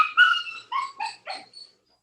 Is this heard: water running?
no